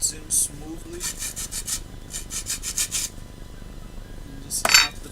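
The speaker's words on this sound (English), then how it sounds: "so I'm just gonna sand it" Sandpaper rubs over a 3D-printed PLA bearing part in rapid, rhythmic back-and-forth strokes, close and fairly loud. A few brief pauses break the strokes, and one sharp scrape comes near the end.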